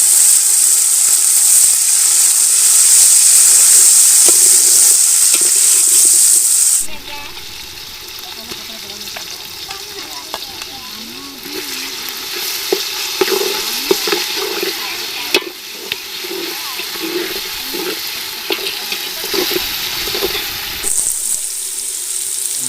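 Onions sizzle and fry in a biryani pot outdoors by a riverside in a forest, a loud hiss at first that drops to quieter crackling with stirring clatter throughout.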